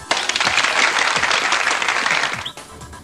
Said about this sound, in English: Sige nga, isang power clap nga dyan.